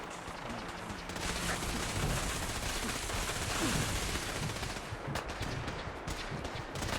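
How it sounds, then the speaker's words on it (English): Continuous gunfire in Fallout 4 during an assault, a dense, loud stream of rapid shots and bursts without letup, with a denser stretch of sharper cracks toward the end. "We go in shooting"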